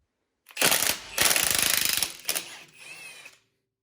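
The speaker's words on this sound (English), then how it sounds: "then you're going to hit it with your impact gun" Impact gun rattling a T40 rotor screw loose on a Ford brake job, two loud bursts of rapid hammering close up, the second longer and steadier, followed by a short clatter and a fading mechanical whir.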